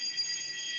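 Fire alarm sounding steadily in a meeting room during a likely test, a continuous high electronic tone with no pauses across the whole span.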